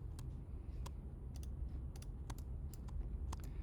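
Rapid keystrokes on a computer keyboard while entering a command in architectural drawing software, a steady run of light, close clicks at an uneven rhythm over faint background hum.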